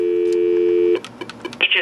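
Telephone line tone calling a home-made HSL DataTalk 3000 equipment monitor, a loud steady dial tone that cuts off into a few short beeps and clicks, with brief speech-like sounds at the end.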